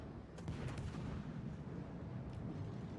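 Ship guns firing in World of Warships, a few deep booming shots over a heavy rumbling battle ambience, muffled and fairly distant, with rolling low-end thunder between the blasts.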